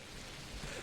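Steady nighttime rain falls in the video game Pathologic Classic HD, a dense, even hiss of drops with no voices over it.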